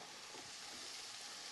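Onions frying in olive oil in a pan, a steady faint hiss of sizzling that holds evenly throughout with no voices.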